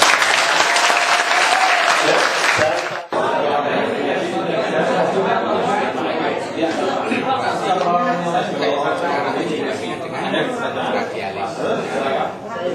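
Sustained applause from a seated audience at a basic trauma cardiac life support training session, loud dense clapping from start to finish with a brief dip near the three-second mark.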